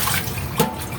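Water gushes from a tap in uneven spurts, a close splashing burst with a brief louder surge partway through over a steady hiss of flow.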